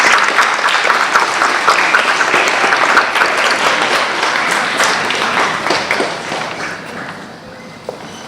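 Loud, sustained applause and clapping from an audience at a school award assembly fill the hall for award-winning children, steady throughout and slowly easing toward the end.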